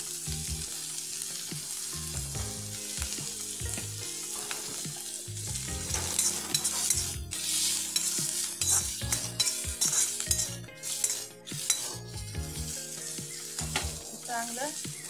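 Chopped onion fries in a pan for sandgyachi usal and is stirred often. Crackling sizzle mixes with repeated scraping and clinking of a utensil against the pan over a steady tonal background, louder in the middle.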